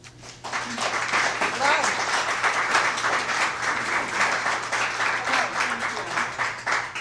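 Audience applause welcoming the performing group at a library concert, a steady dense wash of clapping held at full level throughout, with a few voices murmuring underneath.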